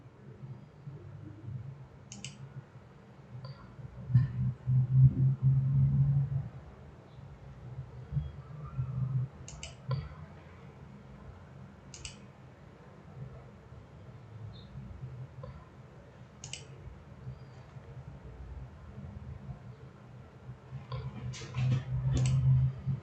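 Sparse, single computer mouse clicks during a simulation-software session, spaced irregularly over a low steady room hum, fairly close and quiet.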